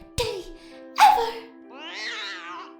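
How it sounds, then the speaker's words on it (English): A pet cat gives a sharp sound, then a short meow and a longer wavering meow, close and clear with no talking. "Rarity rubbed her hoof over the cat's head while she rubbed against Rarity's leg"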